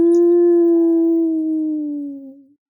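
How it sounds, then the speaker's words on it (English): A lone coyote lets out one long, pleading howl, a steady sustained tone held for over two seconds before sliding down and fading out, close and clear against silence. "Somewhere nearby, a coyote howled a long,"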